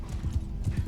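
Horse archers' horses galloping in the Mount & Blade video game, a rapid muffled clip-clop of hooves at moderate volume with a faint whinny.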